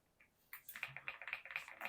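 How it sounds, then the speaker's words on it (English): Fingers type on an AJAZZ AKS075 mechanical keyboard, a quick run of crisp, close clacks starting after a brief near-silence, faint overall but clear. "like, this keyboard sounds really, really, really nice"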